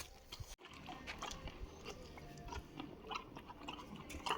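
A pony grazes outdoors, close soft tearing and chewing of grass in irregular bursts after a brief sharp knock at the start, fairly faint with light background noise.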